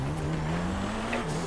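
Cars in a racing video game with a steady engine drone that shifts pitch near the end, tire noise beneath, continuous and fairly loud with no talk.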